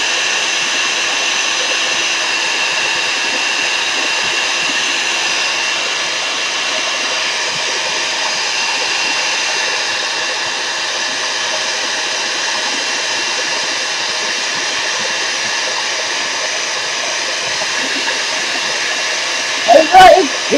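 A hair dryer blows steadily on clear gesso and modeling paste, a loud continuous airy whoosh holding the whole time with no breaks, and a brief clatter right at the end.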